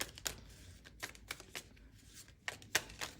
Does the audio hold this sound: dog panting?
no